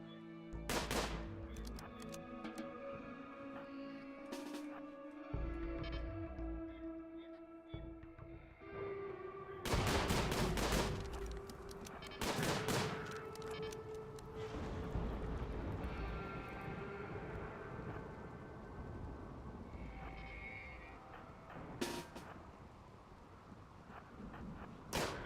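Colonists' gunfire in RimWorld, a run of sharp, close shots, some spaced and some in quick bursts, over a sustained tonal game music bed, with no talk.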